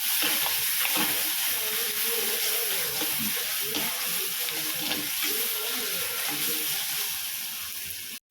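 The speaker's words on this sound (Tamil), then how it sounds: "இந்த ஸ்டேஜில் இஞ்சி பூண்டு பேஸ்ட்டு சேர்த்துக்கலாம். சேர்த்து நல்லா வதக்கலாம்." Onions sauté with ginger garlic paste in a pan, giving a steady, dense sizzle with soft stirring scrapes throughout, close and continuous until it cuts off abruptly.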